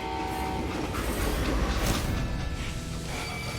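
A train rolls past in the video game Call of Juarez, a dense continuous rumble and rattle of wheels at steady loudness, with no voices.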